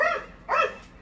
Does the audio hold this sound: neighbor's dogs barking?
yes